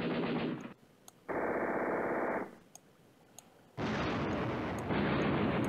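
Artillery barrages and machine-gun fire in the World War II strategy game Command Ops 2 at Molenhoek, coming as loud sustained bursts of rattling fire and rumbling blasts, broken by short quieter gaps, with no talk.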